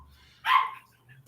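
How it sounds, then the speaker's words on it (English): A pet dog gives a single short bark in a quiet indoor room, close and fairly loud, with faint background hum before and after. "The damn dog. Yeah, it's my dog."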